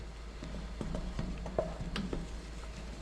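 Hot boiling blueberry jam stirred in a pot, with soft scraping knocks and bubbling over a steady low hum, faint and close, with no talking.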